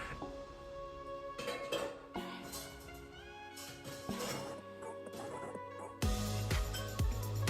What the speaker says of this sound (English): Time to wash the dishes because they've been sitting here all evening.